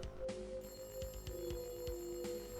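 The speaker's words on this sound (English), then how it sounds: "we hear a phone ring" A telephone rings in an abandoned building in the survival horror video game Silent Hill, with a steady repeating electronic ring over a low droning hum and rhythmic pulsing throb.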